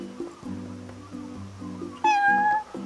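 A cat meows in the video game Final Fantasy XV, several short close mews over a soft game music bed, followed by one louder, drawn-out meow.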